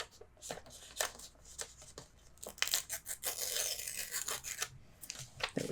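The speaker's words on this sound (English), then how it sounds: "I think I want to tear a little bit more up here." Paper torn by hand to shape the edges of a Stamperia Daydream mini album, repeated short ripping and rasping bursts close up, some longer continuous tears, no voices.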